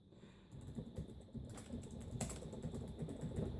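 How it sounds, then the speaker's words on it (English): Typing on a computer keyboard during a Windows 2000 install on a Dell Latitude C640 laptop, a quick run of soft clustered key clicks, fairly quiet and steady. "I'm just going to type in"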